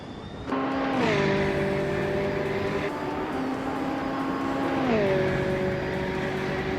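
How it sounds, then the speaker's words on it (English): Race car engines in an AI racing video game, including a 2012 Aston Martin Vantage GTE, drone steadily with held tones that shift pitch together as gears change, a loud continuous engine roar with no talking. "Silhouette is driving a 2012 Aston Martin Vantage GTE."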